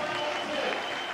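A crowd at a bouldering competition final cheers and applauds, a dense, steady roar of clapping and shouting that fills the space, with a voice faintly mixed in.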